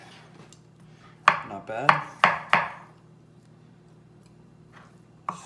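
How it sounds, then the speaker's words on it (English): A knife chopping vegetables on a cutting board for guacamole, four crisp, close thunks in quick succession and then a lone tap after a pause, with a brief spoken remark. "Everything else I can pretty much chop up pretty quick"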